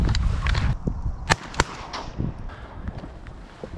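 Shotgun blasts during a mallard duck hunt on the Lower Columbia, two sharp nearby reports about a third of a second apart over steady outdoor wind noise.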